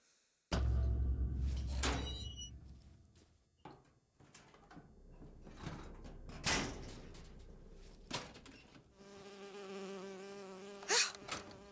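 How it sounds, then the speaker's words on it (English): A bee buzzes in BioShock Infinite, a thin insect drone that comes and goes over roughly eleven seconds amid game sounds, door-like clunks and a louder burst near the end. "Oh, it's a bee. I hate these things."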